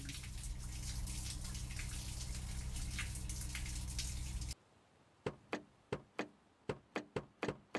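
Repeated knocking clatter of a stuck car door being tried in My Garage, a dense noisy stretch followed by about nine sharp, evenly spaced thuds that stand out clearly against quiet.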